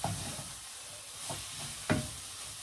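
Chili is stirred in a pan over a steady sizzle, with a few soft scrapes and knocks of the spoon against the pan.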